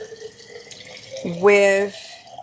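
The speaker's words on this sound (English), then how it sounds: "I'm pouring water." Water poured from a tap or jug into a vessel indoors, a short rising gurgle that climbs in pitch as it fills, about half a second of steady flow, close and moderately loud over a quiet room.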